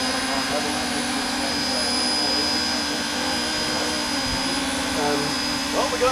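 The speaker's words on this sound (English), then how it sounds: "Well, we got another compressor problem on the" An air compressor on steam locomotive 63, a narrow-gauge engine at a scenic railroad, runs as a steady, loud hissing roar with constant mechanical drone, a faint knock near the end, and no pauses.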